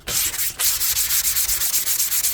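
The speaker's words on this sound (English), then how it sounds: "I see a couple of craters in it that I need to sand down." Hand sanding of filler craters on a Jupiter 2 model, a dry scratchy rasp repeated in quick, steady back-and-forth strokes, close and fairly loud with no talking.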